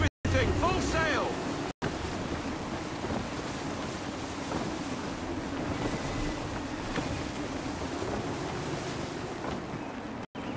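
A sailing ship in gusty wind in Assassin's Creed III: roaring wind and crashing waves in a continuous loud wash, with shouted voices over it at the start and brief dropouts.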